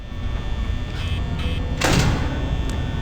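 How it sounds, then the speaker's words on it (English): A security door slams shut in Five Nights at Freddy's: one sudden heavy mechanical clunk with a short metallic rush, standing out from a steady low game hum near the middle. "I'm just gonna close that door because I don't know where she is"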